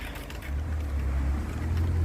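A 1.5 kW boat motor running on the water, a steady low drone that swells after a brief start and holds close and loud beneath wind and water noise.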